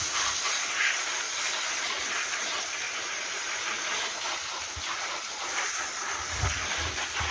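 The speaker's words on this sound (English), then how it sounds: "I'm just using a hoof pick and a spray just to get" A spray jet blasts steadily against a wire mesh egg collector while a hoof pick scrapes it clean, a loud, continuous close-up hiss with a few faint knocks underneath.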